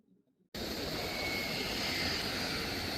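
After a brief quiet moment, a steady, loud roar of aircraft engines rises at an airport and holds without a break, with a thin high whine running through it.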